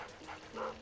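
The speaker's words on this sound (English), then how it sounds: "Try to avoid the dog." A dog in the video game Luigi's Mansion gives a brief, faint bark and yip, muffled within the game's background sound.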